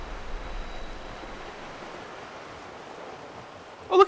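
River water in the video game Lost Ember makes a steady soft rushing wash, even and moderately quiet, with a sharp brief sound at the very end.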